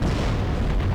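Anti-tank guided missiles firing and exploding in the wargame Warno: a dense, loud burst of booming detonations and launches merging into one continuous roar, with no gaps.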